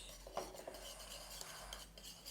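A spoon scraping and clinking against a bowl while stirring a home-made facial hair removal paste with aloe vera gel, soft, close, intermittent taps over quiet scraping, with no talking.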